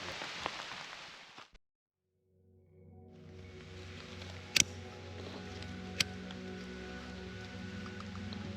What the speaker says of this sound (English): here comes the rain again